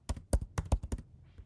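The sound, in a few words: typing on a computer keyboard to enter a name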